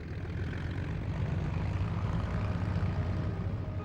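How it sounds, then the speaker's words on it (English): Replica Vickers Vimy biplane bomber in flight, its propeller engines giving a steady, loud, broadband drone with a low throb that holds evenly for a few seconds with no voices. "This replica Vimy shows how far the bomber developed in 4 years."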